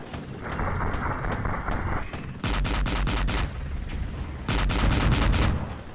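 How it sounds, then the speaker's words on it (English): Artillery fire booms in the Cold War wargame Flashpoint Campaigns, heavy shots and rapid volleys rumbling in repeated loud bursts over a steady roar, with no speech. "Setting up those arty guns, man, and firing in the woods, man."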